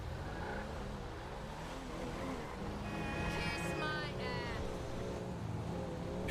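A car passes along a road, a low engine hum swelling in the middle and fading again, with a faint high whine and speech in French nearby.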